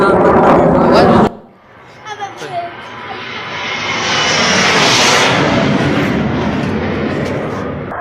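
Fighter jets flying over Pakistani cities: after a brief burst of talk, a loud roaring engine swells and rushes overhead, then holds as a broad, steady rumble.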